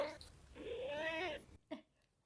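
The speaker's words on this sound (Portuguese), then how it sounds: "vocês ouviram aí a Diana. Diana é a minha gatinha mais nova" Diana, a four-year-old pet cat, lets out one drawn-out, rising-and-falling meow close by, with brief speech just before it and a soft sound after.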